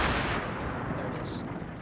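A tank cannon shot from a T28 in World of Tanks lands as a loud, dense blast against rumbling engine noise, with a brief sharp crack partway through.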